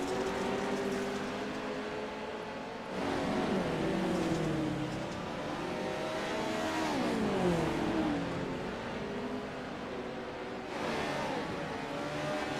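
Race cars on the track at Weedsport, engines roaring and revving past in overlapping waves, pitches rising and falling as cars accelerate and pass at moderate distance.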